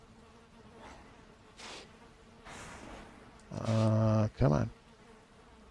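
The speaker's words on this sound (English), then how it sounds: "Yep, bees are happy." Bees buzzing around closely placed beehives in the game Valheim, a steady insect drone that swells loud and close near the end, with someone talking over the quieter start.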